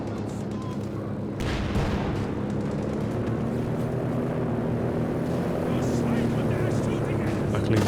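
Warplanes roar overhead in Company of Heroes 2, a steady broadband engine rumble that holds loud and unbroken across the whole stretch, with dense battle noise mixed underneath.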